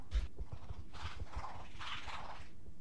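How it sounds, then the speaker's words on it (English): Sectoid footsteps in the turn-based strategy game XCOM Long War: soft, irregular low thuds and scuffs patter along steadily, with fainter swells of ambient game noise behind them and no talking. "I hear sectoid footsteps."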